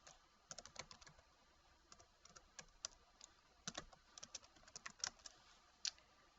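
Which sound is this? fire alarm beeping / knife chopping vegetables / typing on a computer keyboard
typing on a computer keyboard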